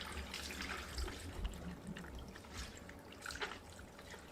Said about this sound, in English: So go ahead and add your water.